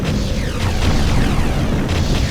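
An enemy structure blows up in the Ground Control real-time strategy game: a dense, rumbling explosion with crackling debris that stays loud and continuous for a couple of seconds, with no voices over it.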